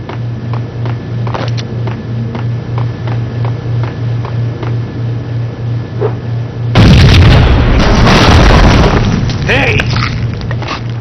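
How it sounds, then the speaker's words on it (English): Max Payne video game scene: a rhythmic low pulsing hum gives way to a sudden heavy explosion, a loud blast followed by rumbling, crackling debris, with voices speaking around it. "I thought it was a bomb for sure"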